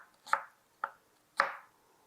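A knife cuts food into thin slices on a board, three crisp separate chops spaced about half a second apart, close and fairly quiet with no talking.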